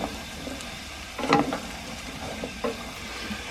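Onion and butternut squash fry in a pan on a narrowboat stove, a steady close sizzle broken by a couple of brief scraping stirs.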